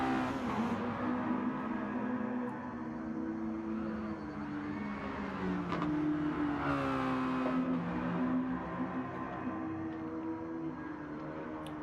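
A Mazda racing car drifting at Kyoto Driving Park in a sim race, its engine holding a steady revving drone with pitch sweeping up and down as it slides, continuous and close without talk.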